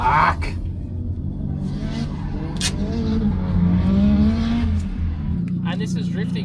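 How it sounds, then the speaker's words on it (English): A turbocharged car drifts around a racetrack, engine droning and rising in pitch under long squealing tires, with brief bursts of voices near the start and end. "And this is drifting, folks."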